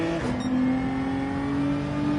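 Race cars rushing past during a seaside circuit race in a racing game, a steady loud engine drone with a rising whine as the cars go by, alone without talk.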